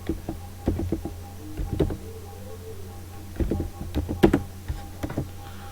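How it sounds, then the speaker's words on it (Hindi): Computer keyboard keys typed in short irregular bursts of crisp clicks, fairly close, with a faint steady hum underneath and no talking. "यहाँ पे टाइप करता हूँ"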